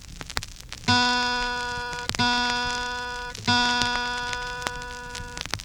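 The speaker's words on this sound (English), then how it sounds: "The second string is called the B string," Three plucks of a guitar's B string, evenly spaced, each note sustaining and fading gradually; close and clear with no talking.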